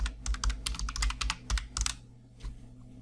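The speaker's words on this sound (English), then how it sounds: "if I start typing" Fast typing on a computer keyboard, close and clear: a steady patter of individual key clicks over a low hum, easing off after two seconds with one last click.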